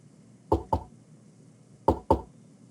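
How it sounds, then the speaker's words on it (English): Knocking on a door in a distinctive pattern: two quick raps, a pause of over a second, then two more, each sharp and fairly close against a quiet background. "we need to be able to remember this knock next session"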